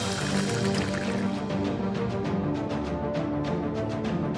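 Water streams steadily from the dial tap of a Livpure Lotier water purifier, a continuous bright splashing flow with a gurgling, filling texture, close and fairly loud with no voices.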